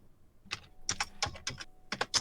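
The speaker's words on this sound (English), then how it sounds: "Whenever I hear Shelby typing" Shelby types on a computer keyboard, hitting the keys hard in quick uneven clusters of clacking strokes, close and without speech.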